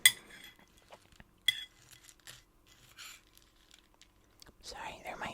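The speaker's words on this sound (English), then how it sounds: "there might be a few little bowl scraping sounds" A spoon clinks and scrapes in a bowl of Count Chocula cereal, with sharp clinks at the start and again partway through, soft scrapes between them, and quiet whispering.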